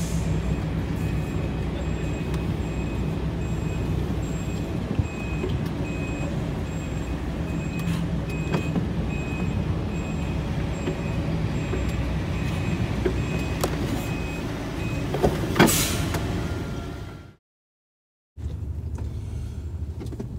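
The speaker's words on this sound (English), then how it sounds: "I'm going to carry on reversing" Lorry reversing in a haulage yard, with steady engine rumble and a faint repeating reversing beep throughout, a loud close hiss near the end before a sudden cut and the engine drone returning.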